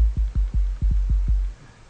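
Trap-style 808 bass from a VST plugin, a series of six deep, booming hits with a short punchy attack and sustained low tail, evenly spaced, then fading out, with no voices.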